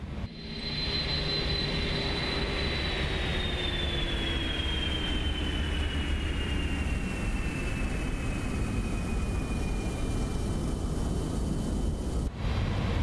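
Engine number one of an Inibuilds A310 airliner spools down after landing at Los Angeles in MSFS 2024, a loud steady jet roar with a whine that slowly glides lower in pitch as it winds down.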